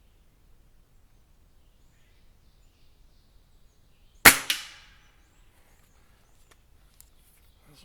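A single sharp crack from an Air Arms TX200 laminate air rifle fired at a target 30 yards away, stands alone in quiet surroundings, with a quick second report right after and a short decaying tail.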